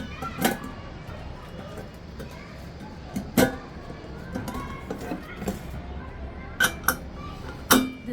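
Metal lid of a Butterfly Curve pressure cooker handled and set down, giving a few scattered clanks and clinks at irregular intervals over low room noise, with faint speech in the background.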